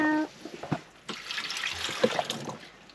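Drinking water pours into a pot of diced pumpkin, sweet potato and carrot at a beach campsite, a steady close splashing and trickling stream running for a few seconds.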